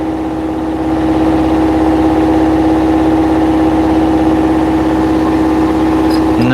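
An engine idles while warming up in Kaveing, Papua New Guinea, a loud, close and steady rumble with an even hum that barely changes from start to finish.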